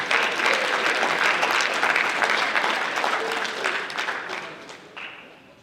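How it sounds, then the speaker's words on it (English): Audience applause at a high school basketball awards ceremony: steady, dense clapping from a crowd that holds for several seconds, then tapers and thins out toward the end. "Let's clap it up for the Glenwood Gators."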